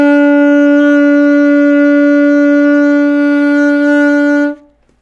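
Alto saxophone holds one sustained B note, steady, loud and close, with a rich reedy tone for about four and a half seconds before cutting off cleanly.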